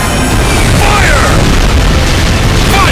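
Cannon fire in the video game Ys X: Nordics, loud booming blasts layered over dense continuous battle noise for the full stretch, with faint voices mixed in.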